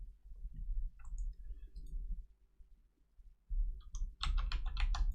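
A computer keyboard tapped to shift gravity in a game: irregular clicks and short bursts of several quick keypresses, growing denser and louder toward the end over a low hum.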